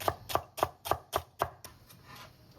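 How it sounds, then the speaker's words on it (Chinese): A knife dices celery into small bits on a cutting board, making six quick, evenly spaced chops close by, then stopping. "最后再切一点芹菜粒"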